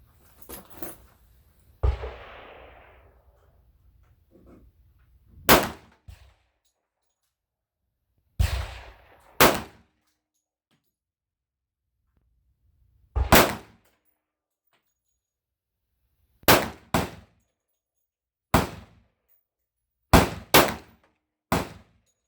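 A Springfield XDM .45 pistol fitted with a .460 Rowland conversion kit fires single loud, sharp shots at an outdoor range, about a dozen spaced irregularly across the stretch, some in quick pairs, with silence between them.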